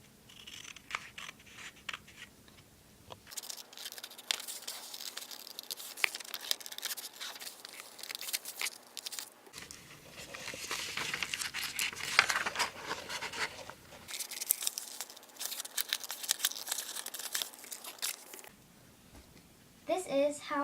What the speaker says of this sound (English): We replace the leaf and cut out the lines we have painted.